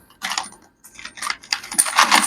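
Coins spill and clink out of a savings jar, a loud, close cascade of metallic jingles in bursts that builds into a thicker rattle.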